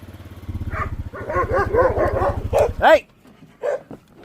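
A dog named Rebel barks and yips in quick bursts close by, over a low motor-like rumble, while a person shouts at it.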